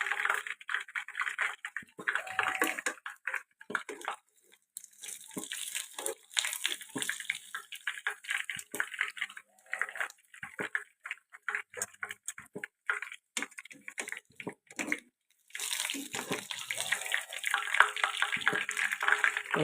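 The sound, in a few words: draining cooked food, water running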